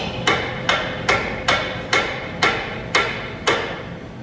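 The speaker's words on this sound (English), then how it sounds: "Smash it up with a soft hammer." Copper soft hammer striking a control arm bush while pressing it into a Corsa VXR lower control arm: eight sharp metallic blows at a steady, slightly quickening rhythm, close and loud with no talk.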